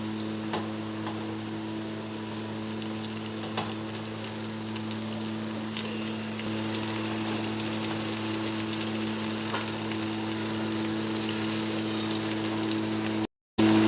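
Golden brown fish pieces for fish fry crackle and sizzle in oil as they are laid in, a continuous close frying hiss with a steady hum underneath and occasional light ticks, with no talking, cut by a brief dropout near the end.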